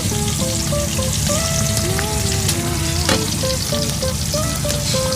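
Milkfish (bangus) sizzling and crackling steadily in hot oil, loud and close throughout, with small pops, faint clinks, and a sharper crackle near the middle; no voices.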